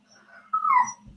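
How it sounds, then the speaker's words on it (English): A dog whimpers indoors, a quiet thin whine that swells briefly to a louder, rising-and-falling cry lasting about half a second before fading back to near silence. "You guys hear my dog?"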